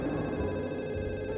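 A cell phone rings through after a 911 call is dialed, a steady electronic ringing tone held for a short moment with no talking over it.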